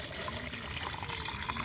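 One litre of mustard cake (sarson khali) water pours into about ten litres of plain water in a half-full bucket, a steady close splash and trickle with no talking.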